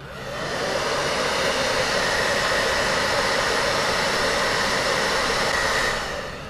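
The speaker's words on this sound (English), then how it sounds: "that is very hot air blowing onto that" A heat gun or hair dryer blasts very hot air onto a GoPro helmet chin mount, a loud steady whooshing roar that starts, holds evenly for several seconds, then cuts off.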